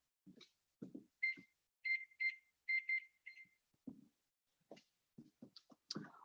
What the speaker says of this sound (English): put my timer on for 12 minutes